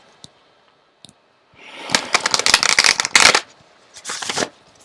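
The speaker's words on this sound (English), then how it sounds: "let's pull some more cards" Cards from an intuitive reading deck being shuffled and pulled, a brisk riffling flurry of papery clicks after a few isolated taps, then a second shorter burst, close and loud with no talking.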